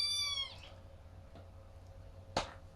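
Chiba, a pet female cat, gives one clear, close meow that falls in pitch at the start, followed by quiet room tone and a brief sharp click near the end.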